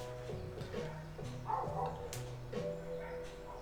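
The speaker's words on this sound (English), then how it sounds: "Oh yeah, there's like a doggy in the background" A dog barks in the background of a home kitchen, several short woofs spaced about a second apart, moderately faint and distant.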